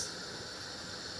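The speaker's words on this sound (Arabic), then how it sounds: "اهو الفول اهو بيغلي" Fava beans boil in a pot with a steady, even hiss of steam and bubbling that is close and constant and stays at one level throughout, with no one talking.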